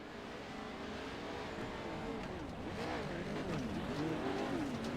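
Race cars in the iRacing video game, Pro2 trucks at the Wild West short course, roar off at the start of a race, engines revving and rising in pitch as a dense pack, steady and loud throughout.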